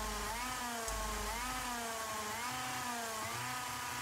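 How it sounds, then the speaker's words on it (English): Kart engine in Gran Turismo Sport revving with a steady buzzing drone, pitch rising and falling through gear changes and throttle shifts, loud and continuous throughout. "Oh no, the kart engine again."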